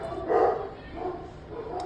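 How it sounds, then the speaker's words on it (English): Dogs bark in excited bursts, about three loud volleys over a couple of seconds, somewhat muffled indoors, with a faint voice in the background. "My dogs are going crazy because I think there's trick-or-treaters out"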